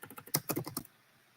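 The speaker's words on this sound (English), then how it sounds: "I'm gonna show you what I'm typing in the ChatGPT." Rapid keystrokes on a computer keyboard, about a dozen close, crisp taps in an uneven burst that stops abruptly into quiet room tone.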